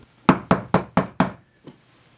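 Five sharp knocks on a door in quick, even succession, loud and close, followed by a sixth fainter tap after a short pause.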